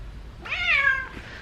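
A house cat gives a single clear, rising-then-falling meow close by, about half a second long, over a quiet low background hum with no talk.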